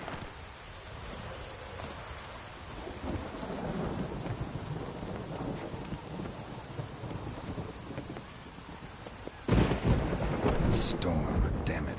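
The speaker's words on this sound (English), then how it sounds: "Storm, damn it." A video game thunderstorm from The Witcher 3 on PS4: steady rain hisses throughout, then a loud crack of thunder bursts near the end and rumbles on over the falling rain.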